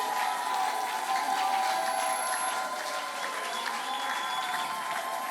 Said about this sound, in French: Est-ce qu'on peut acclamer le Seigneur?